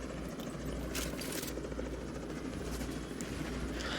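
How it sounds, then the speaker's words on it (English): Enemy reinforcement helicopters in the video game The Division 2 whir with a steady, loud rotor drone and engine rumble that holds throughout, with no talk over it. "as you're seeing the helicopters come here for more reinforcements for the enemy"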